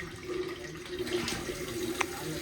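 Water runs steadily from a pipe in a village home, a continuous close splashing hiss with a few small knocks.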